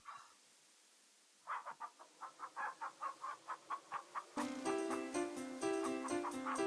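Chickens clucking in the King's Quest III computer game, a run of about a dozen short, evenly spaced synthesized clucks, followed by a loud stretch of game music.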